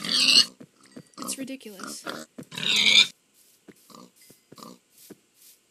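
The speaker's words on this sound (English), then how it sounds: "So many pigs. Why are there so many pigs in one place?" Pigs oink and grunt in a video game, short snorting bursts scattered through the clip and louder near the start, with someone talking in between.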